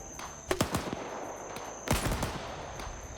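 Gunshots during a live gameplay session, two separate bursts of several sharp shots each, the second after a short pause, fairly loud over a steady background hiss.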